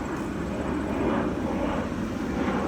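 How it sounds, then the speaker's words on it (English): A steady, droning roar of airplanes flying overhead fills the whole stretch evenly, loud and continuous with no other sounds standing out. "See, look at these fucking airplanes, bro."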